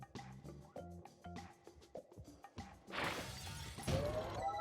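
Glass shatters in the Quantum Conundrum video game: sparse clicks and knocks give way to a loud, sustained burst of breaking glass that scatters on for over a second.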